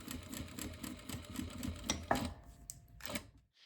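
A sewing machine stitches tote bag pieces in a quick rhythmic whir, running close for about two seconds before slowing and stopping, followed by a few light handling clicks.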